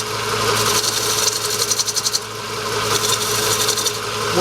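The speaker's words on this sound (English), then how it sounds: "It's a 45 degree shear scrape" A spindle gouge shear-scrapes the outside of a wooden bowl spinning on a lathe at a 45-degree angle, making a continuous loud raspy rubbing with bursts of rapid chattering scrape strokes over the machine's hum.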